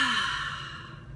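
A long, soft exhale through the nose during a Hong Sau meditation breathing exercise, close and breathy, fading gradually with no talking.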